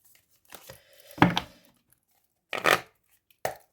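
Tarot cards being shuffled, a stiff new deck, give short bursts of papery riffling and slapping, three or four separate clusters with silent gaps between, close and fairly loud.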